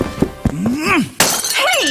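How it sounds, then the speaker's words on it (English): A drinking glass is thrown across a room and shatters, making a sharp crash followed by a second breaking burst. A voice with rising and falling pitch sounds between the impacts. "Why'd you throw my glass across the room?"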